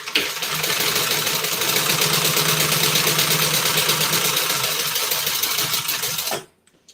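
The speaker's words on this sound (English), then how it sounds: "I'm just top stitching that on" A sewing machine top stitching a crossbody bag runs steadily and loudly at a constant pace for about six seconds, then stops abruptly, with no talking.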